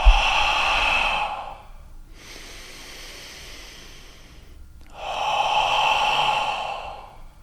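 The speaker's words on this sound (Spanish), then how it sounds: "inspirar por la nariz, abrir la boca como si empañaras un cristal" A person breathes slowly in a relaxation exercise, inhaling through the nose, then exhaling audibly through an open mouth as if fogging glass. The breaths are long, close and airy, with a quieter pause between them and no talking.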